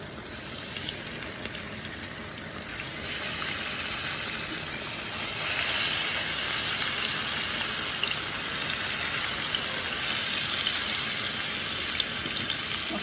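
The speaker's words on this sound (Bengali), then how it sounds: "তখন আমি মাছখানা ভিতরে বাজিয়া নিমু তেলের মাঝে, হালকা করে বাজিয়া নিমু।" Fish sizzles steadily in hot oil as it lightly fries, a dense, even crackle and hiss that runs unbroken, grows a little louder partway through and carries no voices.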